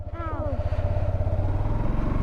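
A motorbike engine idles and putters close by with a steady rapid thump that holds through the clip, and a voice speaks briefly over it at the start.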